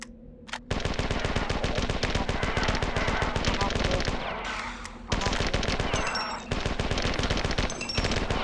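Rapid sustained automatic gunfire from the classic first-person shooter Marathon Infinity, loud and close, rattling in dense repeated bursts with brief gaps and a short pause midway.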